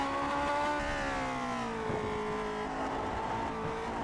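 A racing car is driven at speed through a corner at the Spa circuit, its engine a loud, close, continuous drone whose pitch sags as it brakes and downshifts, then climbs again under power.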